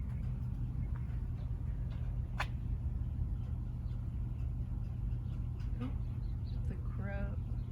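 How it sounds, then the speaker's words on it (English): A raven calls in a garden, a few short hoarse croaks, one sharp and then a quick stuttering series near the end, over a loud steady low rumble of traffic or machinery. "The raven is here."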